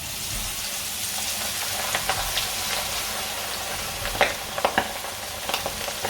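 Pork pieces deep-fry in hot oil, giving a constant bright sizzling hiss broken by occasional crackles and pops, some scraping stirs, and a few sharper bursts toward the end.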